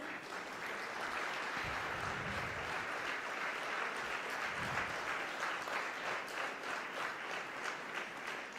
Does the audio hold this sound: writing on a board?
no